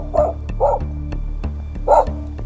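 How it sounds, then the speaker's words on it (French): A dog barks in three distinct bursts close by, spaced about a second or so apart, over a steady low indoor hum. "Il s'est juste mis plus loin pour aboyer, mais en fait, il veut que je sorte."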